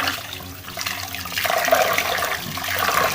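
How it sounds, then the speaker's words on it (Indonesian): Water runs steadily from a kitchen tap in a rising, continuous gush, nearby, with no talking. "Kita nyalakan kerannya."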